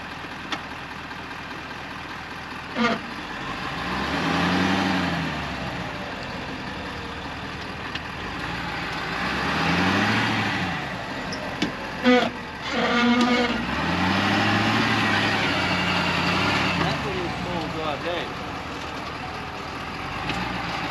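A four-wheel-drive vehicle on a beach at Winderabandi Point, Ningaloo, its engine repeatedly revving and straining in low, rising surges while the front wheels fail to spin, with brief clunks between the efforts.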